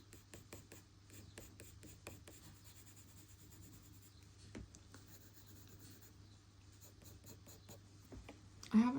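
Coloured pencil makes long, flicking strokes on paper while drawing a Jack Russell Terrier's wire fur, producing a quick series of soft, close scratchy swishes in uneven rhythm over a faint low hum.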